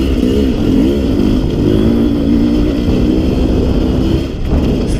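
Sherco 300 SE-R dirt bike engine revving hard on forest single track, a loud, close, buzzing two-stroke drone with quick rev swells and a brief dip near the end.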